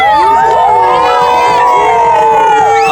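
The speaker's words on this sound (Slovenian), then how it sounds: "zmagovalni krik?" A children's summer survival camp group shouts a loud, sustained victory cry together, many voices rising and holding in unison for about three seconds, close and energetic.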